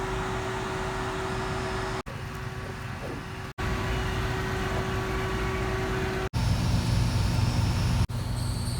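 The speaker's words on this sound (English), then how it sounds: "I've let this pump run on high for a good long while." A pool pump running on high for a Hayward Pro Grid DE filter, a loud steady motor hum with broad rushing noise, broken by a few sharp brief dropouts, no voices.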